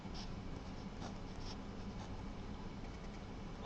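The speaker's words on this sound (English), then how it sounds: "Let me try to write big here." Marker or pen writing large Chinese characters on a board, a steady scratchy stroke texture with a few brief squeaks, close and continuous with no talking.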